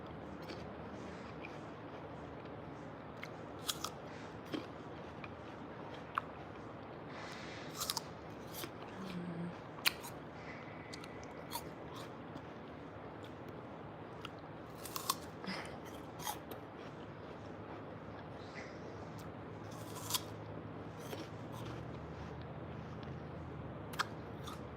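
Crisp, sharp crunches from chewing a crunchy apple, scattered irregularly across the stretch, close and fairly quiet over a soft steady background hiss, with no talking.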